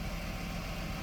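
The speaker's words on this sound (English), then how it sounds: "Warming up the engine now to get the oil thin enough to drain out most of it." A 2008 Nissan Quest with a 3.5L engine idles steadily while warming up, a continuous close hum with a low rumble and no voices.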